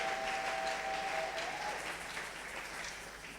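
A church congregation applauding and cheering, sustained loud clapping from many hands with a brief sung or held tone early on, fading slightly toward the end, no speech.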